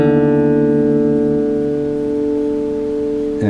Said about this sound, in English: Grab your tuning peg on the E string, pick that, and then pick the D string.